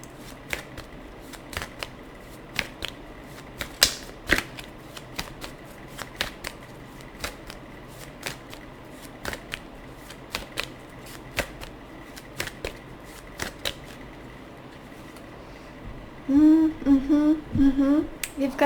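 Tarot cards shuffled by hand at close range, a long run of crisp riffles and slapping snaps repeating at irregular intervals, with a brief patch of soft voice near the end.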